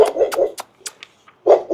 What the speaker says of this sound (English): There's some nice little pups.